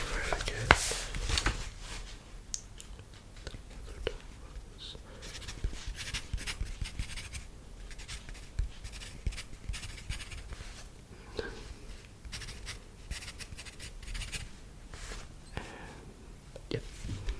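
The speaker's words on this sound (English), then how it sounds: "Let me just write them down before I forget." A pen writing down face measurements in an ASMR role-play, with soft close scratching strokes and taps at low volume under quiet whispered speech.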